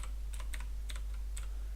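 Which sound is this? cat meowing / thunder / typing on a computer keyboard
typing on a computer keyboard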